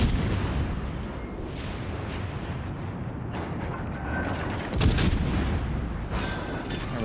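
Naval artillery shells firing in World of Warships Legends, a steady rumbling barrage with a louder burst of booming shots near the five-second mark and another around six seconds, continuous and dense with no talk.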